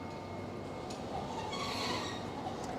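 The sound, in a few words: Tokyo Sakura Tram on the Arakawa Toden line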